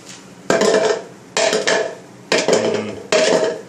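A spoon scraping sticky stuff off a board, four separate rough scraping strokes, each about half a second long, with short pauses between, close and fairly loud.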